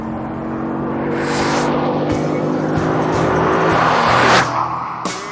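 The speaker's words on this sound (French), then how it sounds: "Oui, ce pick-up n'a ni plus ni moins qu'un cœur de Viper." A Dodge Ram SRT-10 pickup with the Viper V10 engine, driven in the Nevada desert, roars loudly and close, its deep engine note rising as it accelerates and shifts, then easing off, with no talking.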